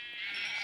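A sheep in a Minecraft survival world bleats once, a short, steady, nasal cry heard up close with no voices over it.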